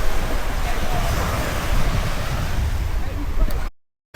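Beach surf in Jamaica rolls in as a steady, loud roar of breaking waves with gusty wind buffeting the microphone, then cuts off abruptly near the end.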